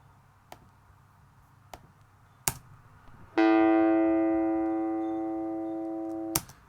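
A guitar's A note with its fundamental cut away by EQ rings out thin and bright, one sustained tone slowly fading after a few faint clicks and taps.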